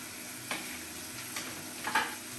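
Onions softening in a pan for a Spanish tortilla andaluz, giving a steady low sizzle with a few brief louder scrapes of stirring, close and fairly quiet.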